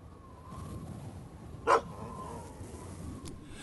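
A dog gives one short, sharp bark at mid-distance in a quiet indoor scene, with a faint steady hum underneath.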